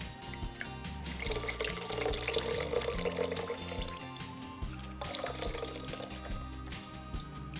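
Sweet potato starch liquid is strained, a steady wash of pouring, trickling water that runs continuously with splashy surges, no voices.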